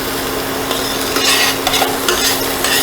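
Minced anchovies cook in olive oil in a pan, giving a steady dense sizzle with light stirring scrapes on top throughout.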